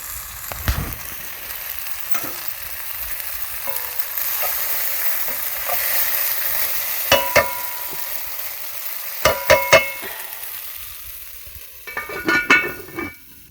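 Floured beef chunks with thyme brown in a pot with a steady close sizzle, broken by several sharp clinks and scrapes as a utensil stirs and turns the meat.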